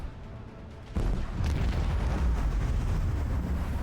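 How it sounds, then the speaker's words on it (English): Macro cannon salvo aboard a warship in Warhammer 40K Rogue Trader: a sudden heavy boom erupts, then a sustained rumbling barrage of deep blasts that rolls on, loud and close, with no talking. "Macro cannons, volley!"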